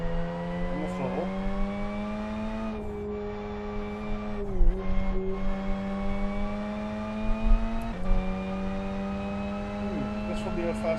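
Race car in Live for Speed circling Westhill International Circuit, its engine droning in a steady high buzz with distinct drops in pitch at each gear shift, occasional brief tire squeals, and a voice talking over the engine.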